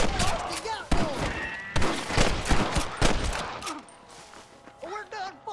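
Rapid gunfire from Red Dead Redemption, a burst of loud, sharp shots in quick succession with thuds, fading toward the end, with voices talking over the action.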